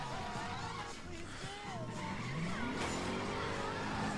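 Car in Watch Dogs 2 spinning its tires under full gas: rising and falling tire squeals and skidding whines over a revving engine, fairly faint and continuous.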